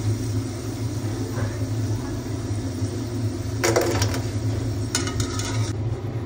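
Fried potato fries are lifted out of hot oil with a few bright crispy rattling bursts over a steady low rumble from the stove.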